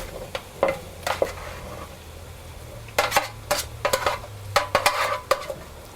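Cooked butternut squash is dumped into a pot on the stove for soup. It makes a string of clattering scrapes and soft thuds in uneven bursts, with a faint low hum beneath.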